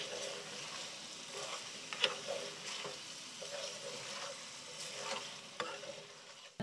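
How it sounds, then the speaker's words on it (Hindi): Meat patties for korma frying in a pan, a steady soft sizzle with light stirring scrapes, fairly faint and close, without talk. "इसको मैं जो है 1 मिनट भून लूँगी"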